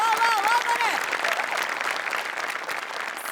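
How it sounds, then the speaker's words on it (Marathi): A studio audience at a comedy show breaks into sustained applause, a dense wash of clapping that holds steady throughout, with a voice speaking over the start. "बनेसाठी टाळ्या"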